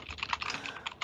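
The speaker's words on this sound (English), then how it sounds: "you typing a manifesto over there? Yeah. Oh, here's why. This keyboard's really fucking loud." Rapid clacking on a loud computer keyboard, a quick uneven run of crisp key strikes close by, with no talking.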